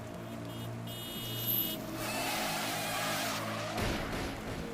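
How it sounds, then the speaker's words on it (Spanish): A car skidding on a wet road on a dark, stormy night, a drawn-out tire hiss and squeal with engine rumble that swells and then breaks off abruptly, loud and near. "su auto derrapó en la carretera mojada"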